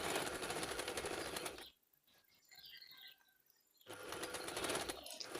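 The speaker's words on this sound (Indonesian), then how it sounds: "Lalu kemudian kita jahit di kedua sisi bahu." A sewing machine stitches both shoulder seams of a garment in two steady, rapid bursts with a quiet pause between them, close and without talking.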